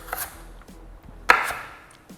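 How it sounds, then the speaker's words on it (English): A knife chopping a piece of celery on a board, a few sparse crisp taps and then one louder sharp cut, close with a quiet background and no talking. "Now we have a piece of celery. It's gonna cut it in half."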